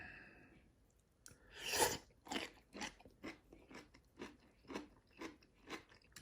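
Someone chewing fish fillet from a self-heating hot pot with pickled soup: a loud first bite, then about a dozen evenly spaced soft, wet crunching chews, close to the mouth, with no talking.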